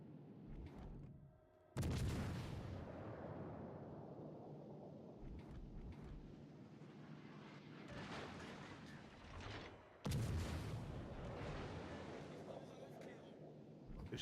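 Gunfire in a video game comes as two loud booming shots with rumbling tails, separated by quieter ambient game noise and faint clatter.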